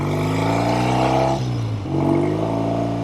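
A 1970 Triumph Tiger 650 motorcycle engine running on a road ride, a loud, close, steady twin-cylinder drone that dips briefly as the throttle eases, then builds again.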